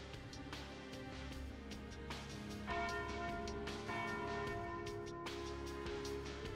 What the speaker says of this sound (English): there's the noon bell